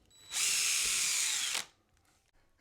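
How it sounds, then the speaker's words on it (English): A power drill bores a pilot hole up through a drywall ceiling, one loud close whine lasting just over a second, then quiet. "Drill a hole, pilot hole through the ceiling"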